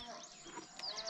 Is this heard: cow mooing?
yes